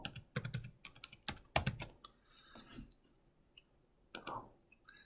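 Someone types a formula into a spreadsheet on a computer keyboard: rapid bursts of close, clicky keystrokes, a pause with faint clicks, then another short flurry of keys.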